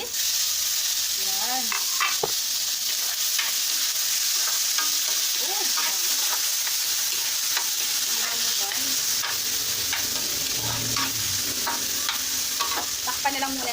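Onion and tomato sauté in a pan over low heat, a steady bright sizzle throughout with intermittent scrapes of a utensil stirring, and a brief word spoken once.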